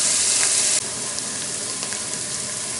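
Vegetables frying in a pan on a burner set high, a steady bright sizzle that drops a little in level partway through and keeps hissing, with no voices.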